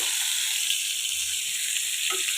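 Fish shallow-frying in a pan with little oil, a steady close hiss and sizzle running throughout with small crackles, no talk.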